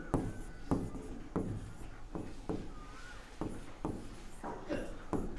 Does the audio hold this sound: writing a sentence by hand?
yes